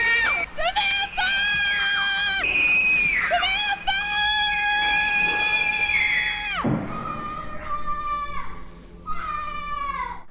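Screaming from a film, two people shrieking at the top of their lungs in a time-machine scene, loud harmonic wails that rise, break off and resume, with some cat-like yowling quality throughout.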